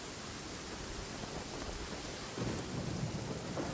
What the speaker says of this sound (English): Thunder's so loud